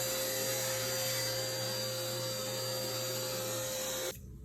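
A vacuum cleaner roars steadily with a constant whine as it sucks up a small triangular piece of wood from a demolished accordion, loud and close, then cuts off abruptly near the end.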